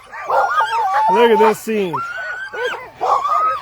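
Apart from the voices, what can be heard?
sled dogs barking before race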